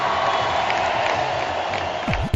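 A crowd in a parliamentary chamber cheering and applauding, a steady wash of clapping and voices at a constant level, with a few louder shouts rising through it.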